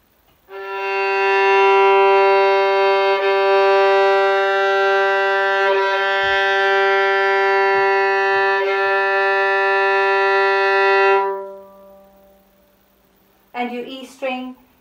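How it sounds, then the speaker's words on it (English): A long bowed tuning note on a violin's open G string drones steadily for about eleven seconds, full and rich in harmonics, then fades out before a short burst of speech. "G string should sound like this."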